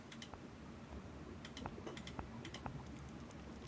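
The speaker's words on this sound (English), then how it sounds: "Clicking the wrong stuff." Quiet, close clicks from a computer mouse and keyboard during a game, landing in small irregular bursts and single taps over a soft steady background hum, with no speech.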